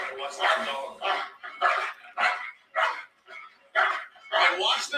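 A dog barks and yips repeatedly in uneven bursts, close and fairly loud, with voice-like whining tones between barks.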